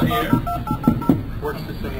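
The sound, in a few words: telephone dialing tones for a test call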